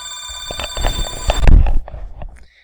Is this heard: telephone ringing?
yes